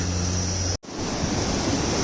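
The Mandakini river flowing from Chorabari glacier near Kedarnath, a loud, steady broadband rush of water heard close by, briefly cut off for a moment before resuming.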